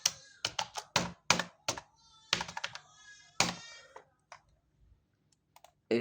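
Someone types a heading in MS Word on a computer keyboard. Irregular bursts of sharp, close key clicks come in quick clusters, then thin out to a few scattered taps and a final loud clack.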